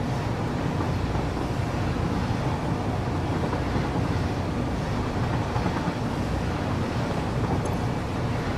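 A train rolls steadily through the factory-building game Satisfactory, making a continuous broadband rumble and rushing drone with no breaks, loud and unvarying throughout, with nobody talking.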